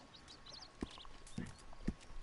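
Faint clip-clop of horse hooves at the stables in Red Dead Redemption 2, a few scattered hoof knocks over low ambient background.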